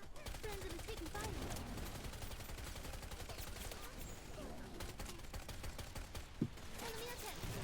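Gunfire in the video game Wild Assault: a dense, steady stream of rapid shots and bursts under talk throughout, with one sharper bang near the end.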